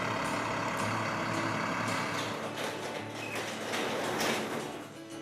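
Trucks rolling in at a community store warehouse in the Appalachian Mountains, a loud broadband rumble of heavy engines with hissing bursts, continuous and close, no talking.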